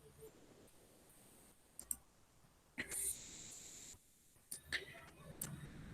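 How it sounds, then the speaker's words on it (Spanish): Mouse clicks on a computer during form programming, a few sharp short clicks including a quick double click, faint and close against quiet room noise. "damos doble clic al botón registrar, doble para que nos aparezca el código"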